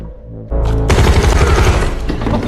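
Sudden loud burst of film gunfire erupts after a brief lead-in, rapid overlapping shots continuing steadily to the end in a dense fusillade, with no talk.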